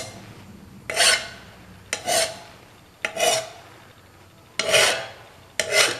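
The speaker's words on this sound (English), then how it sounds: "this file does it. You don't need to have that to sand or file." A hand file rasps against a workpiece in five slow, deliberate strokes, each a gritty scraping burst separated by brief pauses, heard close and alone.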